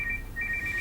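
A mobile phone ringtone chirps in a rapid two-tone electronic pattern against a low background hum, moderately loud and with no talk over it.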